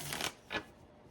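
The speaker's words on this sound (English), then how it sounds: "Or let's just see how shuffling goes." Tarot cards are shuffled in two quick, soft riffling bursts, close by and faint in a quiet room.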